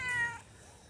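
A house cat gives one short, clear meow close by that fades quickly into a quiet room, with no talking.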